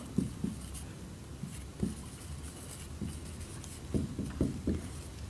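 Chalk or marker tapping and scratching on a board during a seventh-grade math lesson on profit and loss percentages, with short clustered strokes, a few near the start and a quick burst toward the end, fairly faint against a quiet room.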